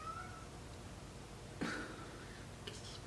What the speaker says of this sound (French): Qu'est-ce qui se passe avec ce chat?